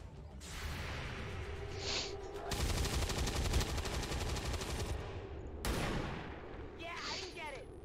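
Video game gunfire from XCOM 2 Long War of the Chosen, sustained dense rattling bursts lasting several seconds, loud and harsh, with brief gaps and game effects around them.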